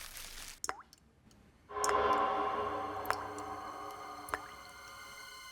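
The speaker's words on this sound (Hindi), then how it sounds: "शायद कुछ टपकने की आवाज आ रही है" Water drips indoors in a home, a few sparse, isolated plinks spaced seconds apart over a quiet background hum.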